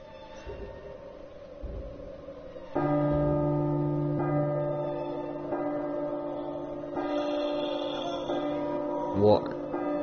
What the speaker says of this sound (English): clock chime.